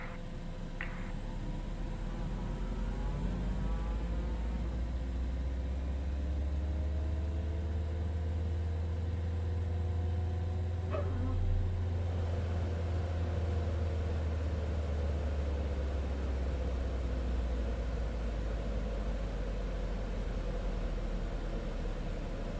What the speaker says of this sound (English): let's start engine number 2